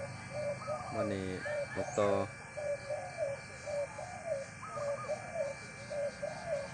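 Spotted dove cooing in repeated soft, rhythmic phrases in the morning sun, fairly close, with chirps from other birds and someone speaking briefly in the background.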